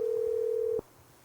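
A steady telephone tone holds for under a second on a call, then cuts off abruptly, leaving faint background hiss.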